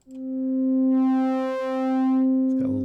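Steady synth tone from a VCV Rack modular patch shaped by a sine wave LFO, swelling and dipping in two smooth waves with bright upper harmonics, then a brief burst of another sound at the end.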